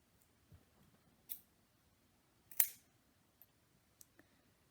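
Scissors snip through wrapping on a homemade wooden mace handle: a few sharp, separate clicks and cuts, close and quiet, spaced unevenly in a silent room.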